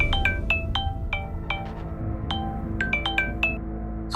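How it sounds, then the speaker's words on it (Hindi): A mobile phone ringtone plays a rapid, bright melody of repeated chiming notes over a low background hum, fairly close and steady, with no talking. "तभी उसके मोबाइल की रिंग बजने लगी।"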